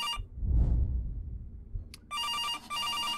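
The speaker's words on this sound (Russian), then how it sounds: "В комнате, это домофон." An intercom rings in the video game September 7th, a bright electronic ringing that comes in two bursts after a low rumbling murmur fades out.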